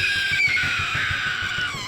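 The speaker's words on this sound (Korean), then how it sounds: "우리는 고통에 찬 비명소리를 들었다." A gumiho gives a long, loud, strained scream of pain in a Korean historical visual novel game, sustained and high-pitched over a low rumbling background.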